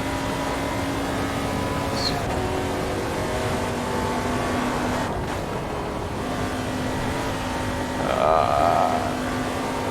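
A race car engine drones steadily in the Sveg Raceway racing game, a constant close hum with a faint pitch rise near the end and no talk over it.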